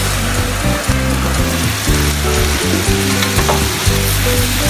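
Pork humba frying loudly in a pan while it is stirred now and then, a dense continuous sizzle close by with occasional scraping stirs and no talk over it.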